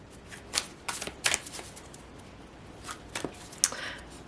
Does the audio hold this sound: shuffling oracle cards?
yes